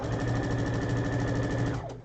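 A sewing machine stitches steadily along a quilt seam for nearly two seconds, its close, even mechanical whir and rapid needle rhythm holding constant before slowing to a stop at the end.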